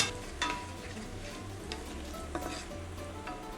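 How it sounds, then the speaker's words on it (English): Garlic fries in olive oil in a pan over high heat, a steady close sizzle with occasional soft scrapes and stirring clicks, no voices. "We're gonna cook this over high heat until the garlic is lightly caramelized."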